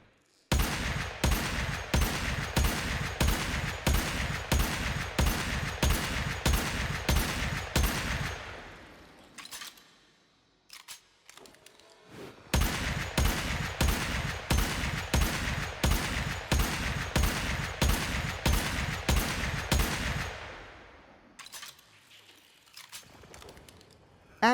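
Aklex dual pistols from the game Warframe firing in two long rapid strings of sharp, evenly spaced shots, each burst ending in a pause with faint reload clicks and mechanical noises, clear and close.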